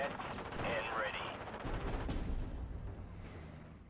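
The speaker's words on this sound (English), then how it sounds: "that's going to be a rocket strike killing my M5" Rocket strike in the World War II strategy game Steel Division: Normandy 44, heard as a dense, rumbling barrage of blasts and crackling gunfire rolling steadily through the whole stretch at fairly close range.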